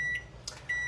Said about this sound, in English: let me turn my timer on real quick